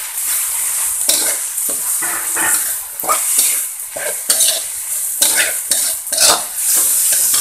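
Salted squid stir-fries in a pan with softened greens, the steady sizzle broken by repeated scraping strokes of a spatula against the metal, close and loud with no talking.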